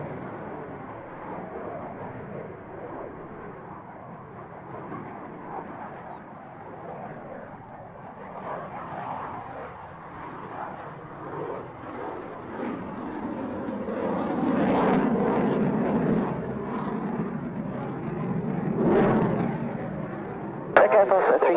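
A jet aircraft roars at the Waddington air display, engine noise building from a distant rumble to a louder surge during takeoff, with radio voices talking over it.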